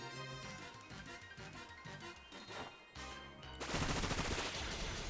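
Bullet Seed attack from a Pokémon video game, a fast burst of rapid-fire popping hits layered over game music, ending in a loud, dense crashing flurry of impacts.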